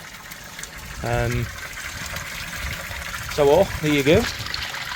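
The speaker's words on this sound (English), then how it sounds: "Works. A little shower." Water from an Alpha 4000 pond filter pump falls in a small steady shower, a soft continuous splash under a man's brief speech, with a few voiced bursts over the trickle.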